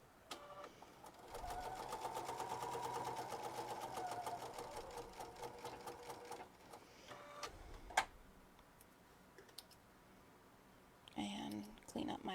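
A sewing machine stitches a purse seam for about seven seconds, a steady close whirring run with a rapid needle rhythm. It stops with a click, and a few quieter handling sounds follow.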